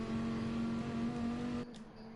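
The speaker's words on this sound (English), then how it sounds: "The GT4 Dodge Viper." A GT4-class Dodge Viper racing car in a racing video game holds a steady, loud engine note with a sustained tonal hum, then cuts abruptly to a quieter, thinner sound near the end.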